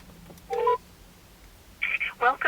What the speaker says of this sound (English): So let's call this number.